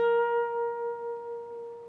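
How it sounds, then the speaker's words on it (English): A single sustained electric guitar note on the 12th fret of the B string rings clearly and alone, wavering gently in a slow vibrato as it decays. "you're going to play a vibrato, so you'll push that note up and down the neck of the guitar. It will sound like this."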